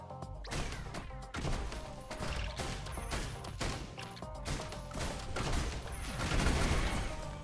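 Risk of Rain Returns charge attack firing mortar rounds into groups of enemies: a dense, continuous barrage of thumping explosions and crashing impacts, loud and layered with game effects.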